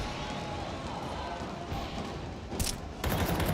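Glock pistol gunfire in a Counter-Strike match, rapid bursts of shots with a dense rattle mixed into background game noise, growing louder and sharper near the end.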